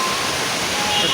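Water rushing down a local river swollen with heavy flow, a steady loud broadband roar without a break, close by, with nobody talking.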